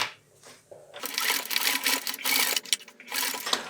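A sewing machine stitches through a thick fur mitten at a lengthened stitch setting, sounding as a rapid, buzzing mechanical whir in close bursts after a quiet start, with brief pauses and no talking.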